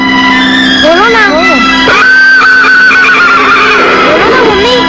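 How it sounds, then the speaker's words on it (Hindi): A horse gallops and neighs loudly, its whinnies rising and falling over a steady background, as part of a Hindi film scene with other voices mixed in. "वो देखो देखो घोड़ा कैसे भाग रहा है, कितना तेज भाग रहा है देखो"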